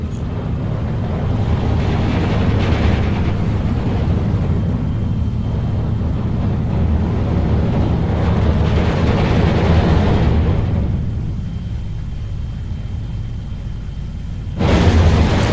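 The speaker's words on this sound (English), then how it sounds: "he is using the Nebelwerfer now to destroy these support guns" Rocket barrage explosions from Nebelwerfer launchers in the Steel Division WWII strategy game, a loud, continuous rumbling roar of overlapping blasts that eases off near the end before a sharp new burst.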